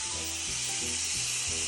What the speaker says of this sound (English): We're gonna add some white wine